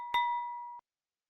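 A single bright bell ding for subscribing, one clear clinking strike ringing with a steady tone before cutting off abruptly, alone in silence.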